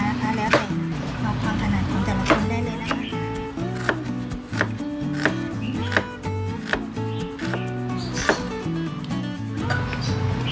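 A knife chops shallots on a cutting board in a steady rhythm for a Thai salted egg yolk salad, a dozen or so crisp knocks close by, over background music.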